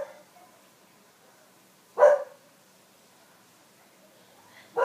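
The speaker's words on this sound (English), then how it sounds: "now my dog is barking" A pet dog at an Australian family home gives two sharp barks, one in the middle and another right at the end, fairly close against an otherwise quiet background.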